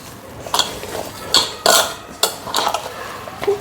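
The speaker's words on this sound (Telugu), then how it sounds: "ఇట్లా ముద్దలాగా కలుపుకోవాలి బాగా" Rice flour dough with onion pieces is mixed and squeezed by hand in a bowl, giving a series of short, moist squelching slaps and pats in an irregular rhythm, close and fairly loud.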